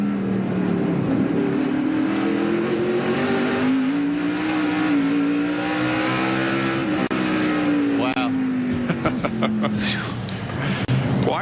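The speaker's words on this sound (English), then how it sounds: "This is Kyle Petty's car." Kyle Petty's NASCAR stock car at the 1996 Hanes 500 roars from an in-car view, its engine pitch rising and falling steadily through the lap, with a commentator's voice running underneath.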